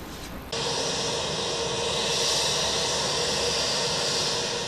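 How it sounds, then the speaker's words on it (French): Congolese presidential jet landing at Cairo International Airport at night: a steady, loud jet engine roar and broadband rush that jumps up after a brief quieter moment, then holds constant without any voices. "l'avion présidentiel de la République démocratique du Congo a atterri sur le tarmac de l'aéroport international de Caire"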